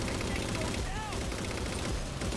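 Gunfire in the Halo 4 video game, dense overlapping bursts and rattling shots filling the whole moment, loud and continuous with other game sounds beneath.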